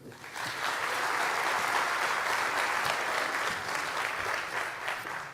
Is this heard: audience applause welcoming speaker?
yes